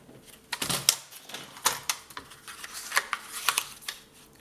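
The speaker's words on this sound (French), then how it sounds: "je vais couper les petits bouts qui sont un peu de trop" Small excess bits of paper being snipped off with scissors during scrapbook album binding, a series of crisp close cuts in an irregular rhythm, alone in a quiet room.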